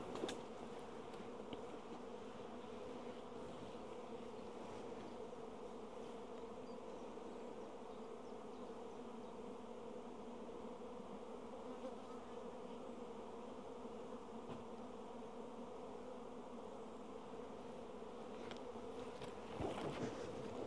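Honeybees swarm around an open beehive as brood frames are placed inside, making a steady, dense, close-up buzz that holds evenly throughout with no talking.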